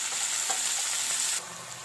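Mashed beans fry in a pan with cooked shrimp and onion, giving a steady, close hiss of oil sizzling that drops a little softer near the end, with faint stirring scrapes and no voices.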